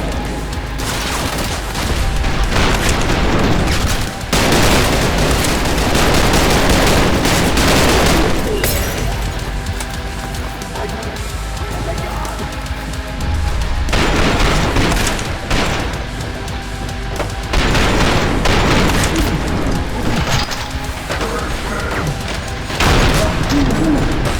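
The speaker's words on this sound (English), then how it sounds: "Fire shotgun, dude." Fire shotgun blasts in the video game Trepang2, loud booming shots in dense bursts and rapid volleys mixed with crashes and explosions, continuing heavily throughout the fight.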